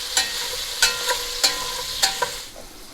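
Sausage cooking in a pan for soup, with a steady sizzle broken by about five sharp scraping stirs spaced roughly half a second apart, close up and with no voices.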